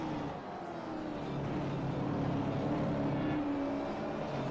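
Simulated race car engine in iRacing on the Sandown circuit, a loud, steady high-revving drone with rising and falling pitch as the car holds speed down a straight, with no voices.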